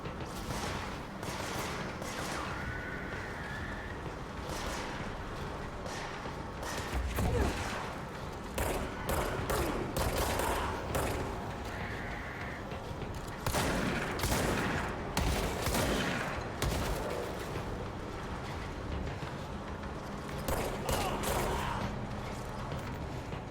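Shotgun blasts in the video game Control, loud close bursts arriving irregularly alongside other weapon fire and clattering mechanical game effects, with a voice talking between some of the shots.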